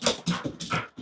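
A dog, one of several at a roadside flower wagon, gives a close run of four or five short, whiny whimpers in quick succession, alone with no talk over it.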